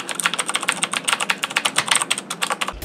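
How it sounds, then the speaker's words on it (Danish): Rapid clicking of a mechanical keyboard being typed on, a steady close run of sharp keystrokes alone with no voices. "Det er et mekanisk tastatur, hvilket vil sige, at den reagerer meget hurtigere, når du skriver."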